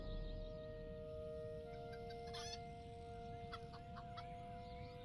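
A chicken clucks intermittently in the Lord of the Rings Online game, with a few short clucking calls over a steady hum of game ambience and sustained tones, no talking.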